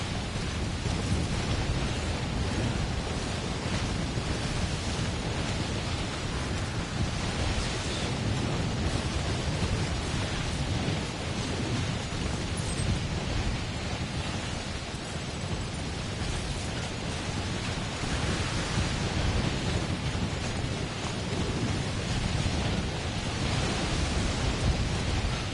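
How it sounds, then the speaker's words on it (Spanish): Heavy, dense thunderstorm in the video game Death Stranding, a steady loud roar of rain and wind with deep rumbling thunder swelling throughout, no voices. "Está poniendo densa la tormenta."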